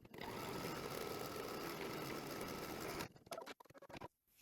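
An embroidery machine stitches a placement line for quilt batting on hooped cutaway stabilizer, a dense, steady, rapid mechanical whir for about three seconds before stopping, followed by a few faint clicks and rustles.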